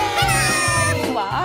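A pet cat meows in drawn-out, wavering cries that run almost continuously, loud and close, with a few changes in pitch.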